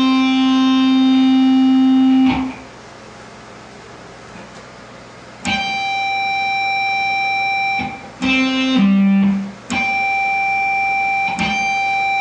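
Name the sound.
fretted note at the 5th fret on guitar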